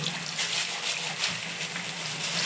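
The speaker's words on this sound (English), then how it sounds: "turn the tap on" A kitchen sink tap runs steadily, water splashing into the basin in a soft, even rush with small fluctuations, close and fairly quiet, with no voices.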